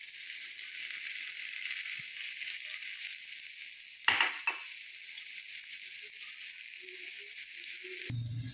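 Potato slices for a spiced potato dish frying in a pan, a steady soft sizzle throughout with a brief clatter near the middle and a louder clunk at the end.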